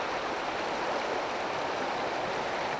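Swollen Piave river rushing through its floodplain near Saletto, a steady broadband roar of fast, heavy water with no gaps, fairly loud and constant throughout.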